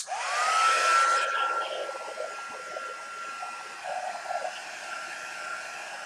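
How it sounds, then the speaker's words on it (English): A heat gun drying masking fluid spins up with a rising whine that settles into a steady rushing airflow, held close and fairly loud throughout. "heat gun just to give it a little waft to see if it'll dry it"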